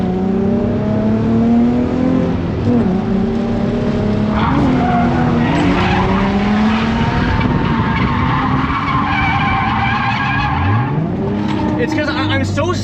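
A worn Infiniti G35 is driven hard around a race track, its engine revving and rising through the gears while the tires squeal and skid through the corners, loud and close, with a driver talking over it.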